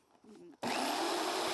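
A power drill boring holes into a carved woodblock starts abruptly after a brief voice, then runs as a loud, steady, close whine.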